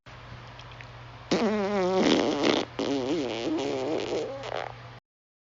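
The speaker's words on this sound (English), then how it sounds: "Venomous fart." A long, loud, wavering fart with a pitch that wobbles up and down, briefly breaking off and then continuing in a second drawn-out, bubbly stretch before stopping abruptly, close and dry over a faint steady hum.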